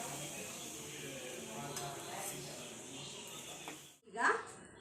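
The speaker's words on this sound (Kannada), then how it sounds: "ಈಗ ಸ್ವಲ್ಪ ತುಪ್ಪ ಸೇರಿಸ್ಕೊತಾ ಇದ್ದೀನಿ" Ghee is stirred into a pan while cooking prasad for a Satyanarayana puja, with soft scraping and stirring at low volume, then a brief quiet gap and a bright clink of a utensil against the pan.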